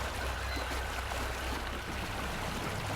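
A stream of water flowing through a cave-like underground chamber, a steady close rushing trickle without any break.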